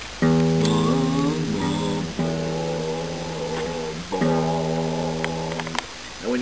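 An acoustic guitar's low E string is plucked during tuning and left ringing, struck again a few times, each note sustaining and slowly decaying.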